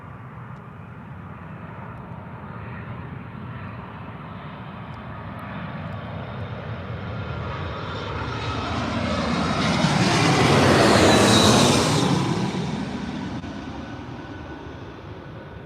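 A British Airways Airbus A310 arriving from Palermo passes at Heathrow, its engine roar building from a distant rumble to a loud, whining peak overhead, then fading away.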